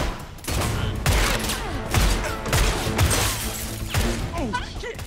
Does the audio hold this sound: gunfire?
yes